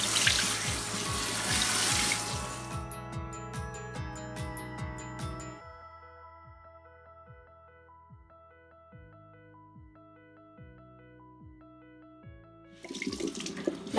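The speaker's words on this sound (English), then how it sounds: "Now remove the rubber bands and rinse your shirt." A tap runs over a tie-dyed shirt as it is rinsed of dye, giving a bright rushing splash that starts strongly and then cuts off, with music playing alongside and the water briefly returning at the end.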